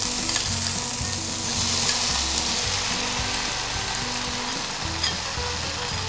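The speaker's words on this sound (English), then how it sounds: "Into this, let's drop in our chopped tomatoes." Chopped tomatoes, about seven or eight, hit a hot pan and sizzle loudly and steadily, a constant close frying hiss with stirring clatter underneath.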